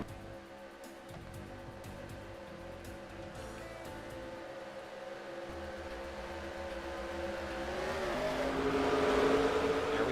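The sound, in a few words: stock cars racing at Phoenix Raceway, from NASCAR racing video game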